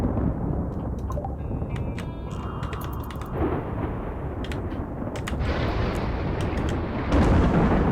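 A flash storm in the video game RimWorld, a dense, continuous rumble of thunder-like crackling and booming that fills the whole stretch, with sharp cracks scattered throughout and a heavier surge near the end.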